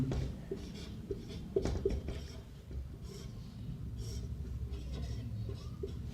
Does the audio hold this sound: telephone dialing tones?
no